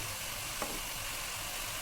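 Tomato pasta sauce made with two large tomatoes and tomato sauce fries in a pan, giving a steady, even sizzle with one brief click partway through.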